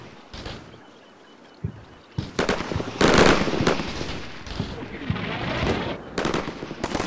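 Mortar fire strikes a machine gun position in Combat Mission Shock Force, heard as a string of sharp, irregular blasts and crackling bursts, some loud and near, separated by short lulls.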